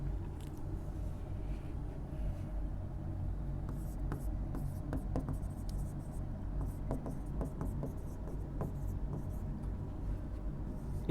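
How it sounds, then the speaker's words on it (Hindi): A teacher in an economics lecture writes on a board, with soft scratchy strokes and taps coming in quick irregular bursts over a low steady room hum. "मैं इसको लिख देता हूं इधर"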